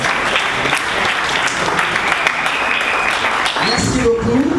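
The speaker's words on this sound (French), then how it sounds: "si nous pouvons acclamer pour lui" An audience at a gathering for the widows of artists and comedians breaks into sustained, loud clapping that stays dense and even throughout, with a voice faintly audible beneath it.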